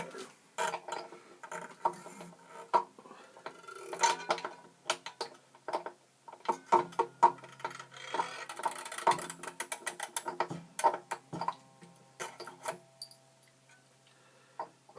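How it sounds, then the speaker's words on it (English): A new A string goes onto a Martin D-18 acoustic guitar kit, with a close series of quick ratcheting clicks and small mechanical ticks in uneven bursts, separated by short pauses. "install the A string."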